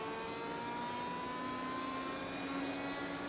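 An open-wheel race car in Grid Autosport braking hard and dropping from fifth gear down to second, its engine note steady and close, tonal whine shifting through the gears with no talk over it.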